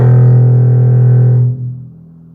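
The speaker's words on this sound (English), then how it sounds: "And it's our open E string, which means this is the lowest note that we can play on our instrument." Open E string on a bass guitar, the lowest note, sounds as one deep sustained tone that rings steadily then is damped and fades out after about a second and a half, alone without speech.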